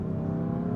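BMW F80 M3 sedan in M mode after a downshift of a couple of gears, a steady loud engine drone close by and holding strong throughout the brief moment of hard acceleration.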